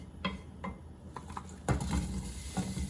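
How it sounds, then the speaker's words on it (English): Onion and carrots in oil in a large pot clink and scrape as they are stirred, with a soft sizzle underneath and several distinct utensil knocks against the pot. "we're going to start with sauteing our"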